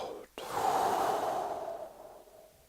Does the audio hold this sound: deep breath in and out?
yes